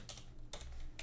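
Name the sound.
typing on a computer keyboard in Kali Linux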